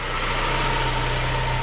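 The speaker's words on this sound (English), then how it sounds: "The engine is not rattling." A Saab 9-3 Turbo engine with low oil pressure idles steadily and close, a smooth even drone with a faint whine on top and no rattle.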